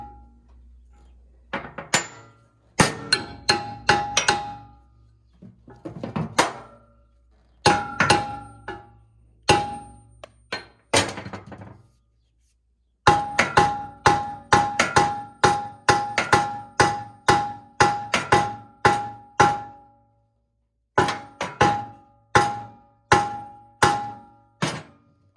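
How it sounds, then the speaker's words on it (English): Repeated metallic hammer blows on the stuck pins of a brush mower, loud and close, struck in quick bursts of ringing clanks with short pauses between runs, no talking. "These pins get stuck in there, and then I just think I hammered on it, and it's like mushrooming or something."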